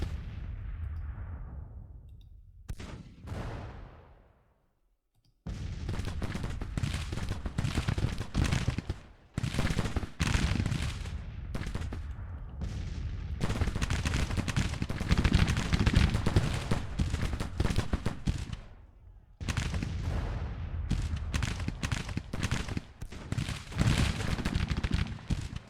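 A Grand Tactician Civil War battle from the 1861 campaign: continuous crackling skirmisher musket fire with heavy artillery booms, dense and sustained with brief lulls, no talking.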